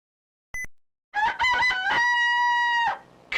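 A rooster crowing in the Asterix CDTV video game, one loud, clear cock-a-doodle-doo held for about two seconds after a brief clicking blip, close and alone.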